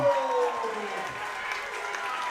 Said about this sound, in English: Crowd is getting into this.